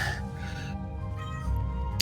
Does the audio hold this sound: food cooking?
no